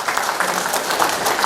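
A church congregation at a Good Friday service breaks into cheers and applause, a dense, steady wash of clapping and raised voices filling the room throughout the short burst.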